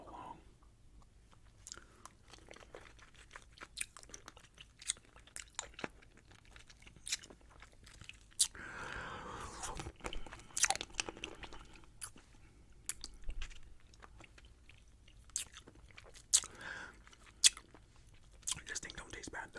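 Crunching and biting on a watermelon-flavor Lucas Muecas lollipop, a Mexican candy, close-miked with irregular wet chews and sharp cracks, with soft whispered talk in places.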